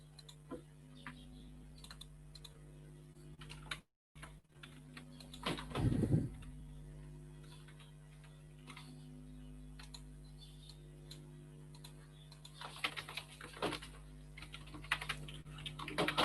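Soft, sparse keyboard typing while code is written in an editor, scattered clicks with a brief louder flurry near the middle and a denser run of keystrokes toward the end, over a faint electrical hum.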